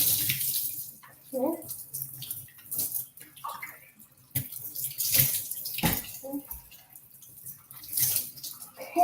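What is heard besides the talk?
water running while rinsing hair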